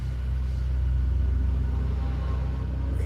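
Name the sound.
car driving past outside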